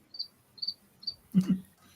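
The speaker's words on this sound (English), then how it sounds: "then it can sound like crickets" Three short, high cricket chirps sound evenly spaced against near silence, followed by a lower double knock or thump.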